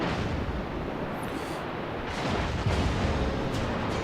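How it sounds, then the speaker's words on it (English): A heavy barrage of enemy shells pounds the HMAS Perth cruiser in a naval video game, a dense, continuous roar of blasts and rumbling impacts with a few sharper bursts near the end. "you can see I've copped a big barrage of enemy shells"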